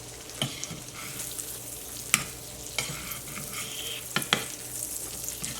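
A chipotle black bean burger sizzles in a pan after being flipped, a low steady fry broken by several sharp scrapes and clacks of a spatula against the pan.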